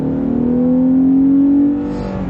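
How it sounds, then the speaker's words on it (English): A 2019 Lexus GS 350 F Sport AWD with its naturally aspirated engine pulls hard in Sport Plus mode, a loud close rising engine note that climbs steadily, then eases off at the end. "And I forget how good the GS sounds"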